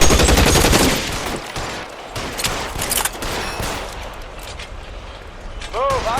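Gunfire crackles through a shootout in the video game L.A. Noire, dense overlapping shots and bursts at close range, with shouted voices mixed in throughout and a brief whooshing sweep near the end.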